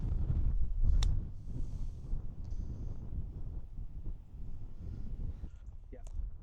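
Wind gusting across an open golf course, buffeting the microphone with a steady low rumble and rustle that swells and eases, with no one talking.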